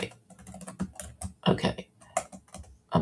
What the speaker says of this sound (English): I'm typing it in the thing now